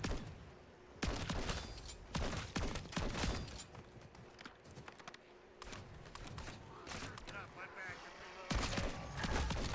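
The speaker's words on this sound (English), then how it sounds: "This is a Dragon's Breath shotgun." Dragon's Breath shotgun blasts in the video game Modern Warfare Zombies, several loud booming shots spaced through the stretch amid game noise, with voices talking between them.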